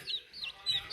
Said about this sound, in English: They peep a lot